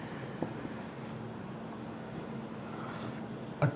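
Pen or marker strokes scratch softly and continuously as multiple-choice answer options for an age problem are written on a board or paper, faint over low room noise, with a sharp tap near the end.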